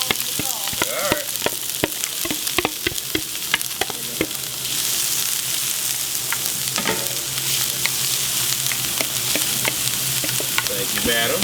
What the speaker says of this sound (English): saute a little bit with some olive oil